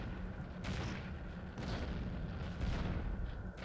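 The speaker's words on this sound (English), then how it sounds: "I'm getting shot at by the AAA, but that stuff's pretty inaccurate" Anti-aircraft artillery fire in the flight-simulation game Falcon 4: Allied Force, a dull continuous rumble with muffled booms and thuds rolling under steady engine-like noise.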